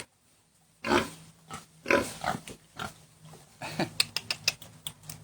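Pigs on a farm in Isan, Thailand, giving several short grunts and snorts at close range, followed by a quicker run of sharp squeals and oinks, with quiet gaps between calls and no talk.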